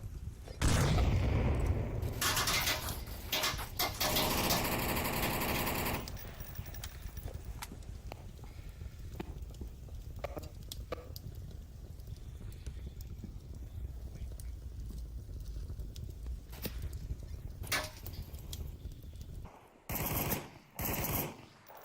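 Sporadic gunfire exchanged in the VR shooter Onward, bursts of rapid shots near the start and a few sharp cracks later over a quieter ambient stretch, no talk.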